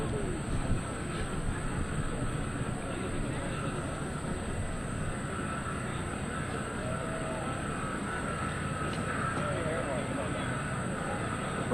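An aerobatic plane flown by Allen Smith at the 2003 NAS/JRB Willow Grove Air Fest holds a steady engine drone as it pauses at each quarter of a hesitation roll, while an announcer talks over it.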